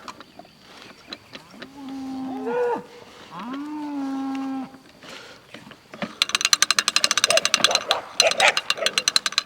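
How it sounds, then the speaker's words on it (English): Cattle low on a farm pasture in two long, drawn-out moos near the mic, followed by clattering, rattling mechanical noise; a voice speaks briefly. "Ooh, cow."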